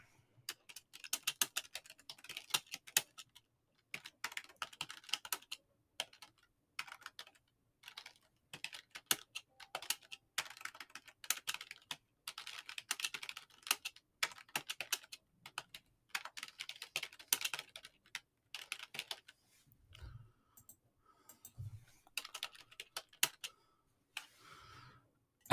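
Steady typing on a computer keyboard, close and crisp, in bursts of rapid key clicks separated by short pauses, with a couple of low thumps near the end, no voices over it.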